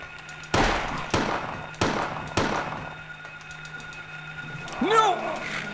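Four sharp, loud gunshots fired at a monster in Silent Hill 1, evenly spaced about half a second apart and each trailing off. A short pause follows, then a voice briefly cries out.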